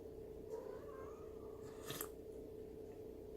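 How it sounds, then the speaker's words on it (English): A pet cat named Rogue meows a few times at close range, short soft calls over a steady low background hum, with no talking during the calls. "My cat's talking to me"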